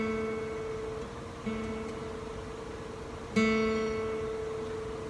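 A guitar sounds the note on the third string, second fret, plucked quietly twice, each a soft sustained tone that rings and slowly fades, with no talking.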